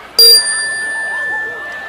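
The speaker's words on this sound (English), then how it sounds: "It's my magic chime." A small bright chime rung by hand gives one sharp clear strike that leaves a long, steady ringing tone, with soft room chatter in the background.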